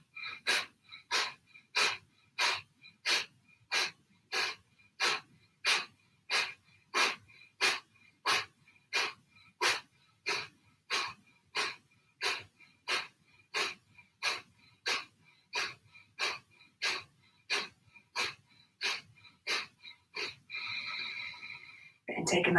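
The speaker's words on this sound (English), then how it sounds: "So take some Kapalabhati breaths now." Kapalabhati yoga breathing: a long, steady series of about thirty sharp, forceful nasal exhalations at a regular rhythm, close and clear, ending in a fuller breath.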